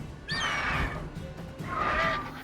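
A horse in the video game Witcher 3 whinnies twice, two loud, shrill neighs separated by a brief pause, heard close and clear with faint game ambience underneath.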